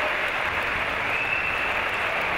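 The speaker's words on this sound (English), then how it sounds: "Some of the crowd giving Andre a standing ovation here." Crowd at a climbing world championship lead final in Gijón gives a standing ovation to a climber, a steady, dense wash of clapping and cheering filling the whole stretch without a break.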